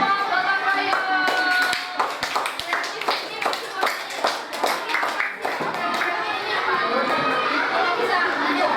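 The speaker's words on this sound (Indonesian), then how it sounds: "Kita kasih aplaus dulu buat kelompok gotong royong" People applaud the gotong royong group with a burst of scattered clapping among children, mixed with lively chatter and kids' voices over several seconds.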